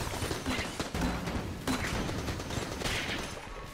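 Rapid gunfire from the dungeon-crawler shooter Enter the Gungeon crackles in dense bursts over busy game noise, with a few sharper shots standing out and faint tonal blips underneath. Nobody speaks.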